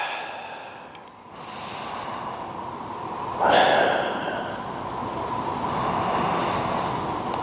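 Slow, deep breaths drawn through the rib cage during a supine neutral spine postural exercise, soft and close, with a louder breath near the middle and steady airflow throughout.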